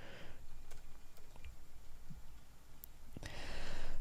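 Rapid clicking of keys being typed on a computer keyboard, close and steady for a few seconds with no talking.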